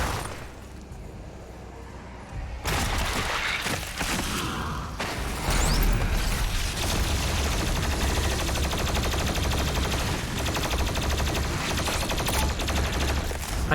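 A plasma rifle fires in Doom, a dense and continuous barrage of rapid energy shots with thuds and mechanical clatter that starts abruptly and stays loud to the end.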